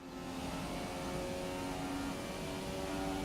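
A Formula 1 Ferrari engine drones steadily as the car drives out in F1 2017 on PS4 Pro, a constant high whining tone heard faintly, with no talk.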